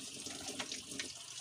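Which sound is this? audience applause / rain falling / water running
water running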